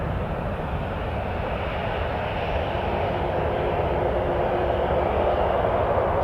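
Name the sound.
WestJet airliner taking off from runway 23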